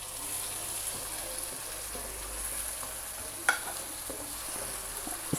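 Onions and finely chopped small tomatoes fry in a pan, giving a continuous close sizzle with the occasional scrape and clack of stirring and no talking.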